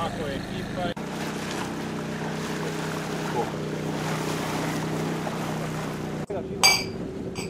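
A boat motors around an island past a jetty, with a steady engine drone, rushing water and wind running throughout and a brief sharp noise near the end.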